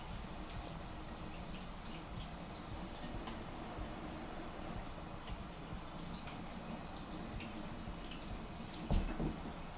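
Warm tap water running into a sink to wash peppers, a continuous hissing splash with small drips and one brief louder clunk near the end, close and steady with no speech.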